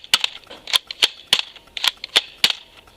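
Toy foam dart blaster, an early-release model, firing in a rapid string of sharp snapping cracks, about eight shots at a brisk, slightly uneven pace, close and loud.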